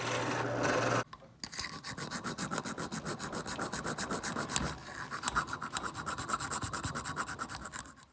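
A hand file rasps in quick, rhythmic strokes, filing out the square tang hole of a forged medieval Irish sword guard, steady close scraping repeated many times without speech.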